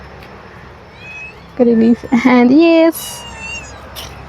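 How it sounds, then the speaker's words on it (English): A pet cat meows a few times up close outdoors, drawn-out tonal calls in the middle of the clip, with a person speaking briefly before and after. "You can see this is my cat."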